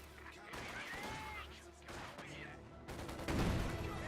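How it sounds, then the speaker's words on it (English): MG42 machine gun bursts in a Company of Heroes 2 battle, rattling amid dense layered combat noise with a louder cluster of fire near the end, under a commentator's voice. "MG42 does find the conscript squad. It gets a burst off there."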